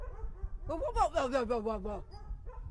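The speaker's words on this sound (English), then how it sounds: "That's another set of dogs that we love so much." Several dogs yelp and bark in a close, excited burst lasting about a second, with a person exclaiming over them and a faint bark trailing after; the setting is a garden in New Orleans's Garden District.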